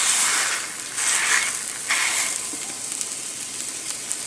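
Raw link sausages pressed meat side down into a pan without oil, sizzling steadily and loudly up close, with a constant frying hiss and occasional brief crackles, no voices.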